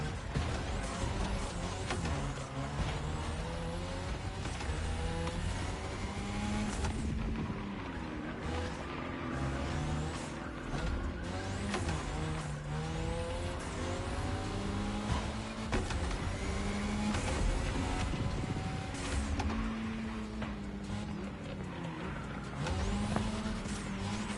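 A Mazda RX-7 races hard in The Crew Motorfest, its engine revving up and down through gear changes in a loud sustained roar with tire noise throughout.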